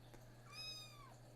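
A pet cat lets out a single drawn-out meow, faint against a steady low hum in a quiet room.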